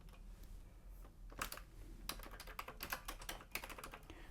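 Typing on a repaired Commodore 64 keyboard: a quiet, uneven run of clicky keystrokes with a few heavier presses, close up and alone over faint background hiss.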